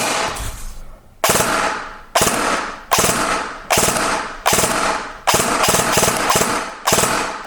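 An Echo 1 P9 PCC airsoft AEG fires repeated short bursts, mostly three rounds each and occasionally two, in a regular rhythm of about one burst per second. The shots are loud and close, with a mechanical whir between them.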